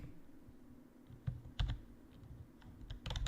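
Scattered keystrokes on a computer keyboard, a few sharp clicks at uneven intervals that bunch into a faster burst at the end, fairly quiet and close against a low background hum.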